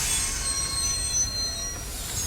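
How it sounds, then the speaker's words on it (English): Loud metallic squeal of train wheels braking hard during an emergency stop of a subway train in the video game NeuroNet Mendax Proxy, a steady high-pitched screech holding for the whole stretch over rumbling rail noise. "You find the train the suspect is on and apply an emergency stop."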